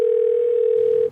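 A steady telephone dial tone heard while a call is being placed, one continuous unbroken hum, close and loud, cutting off abruptly at the end.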